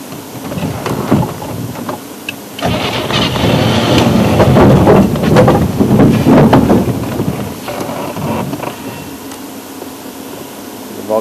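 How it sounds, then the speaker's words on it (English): A safari vehicle with a failed clutch drives along with a loud, rough engine rumble and rattling, and the noise surges after a brief quieter start. "We've totally lost our clutch, so it's a little bit tricky to handle the vehicle"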